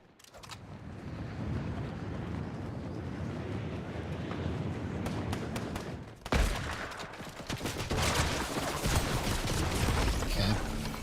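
Gunfire in a video game, with a dense stream of shots and impacts running throughout, then a sharp louder burst around six seconds followed by heavier, closer firing to the end.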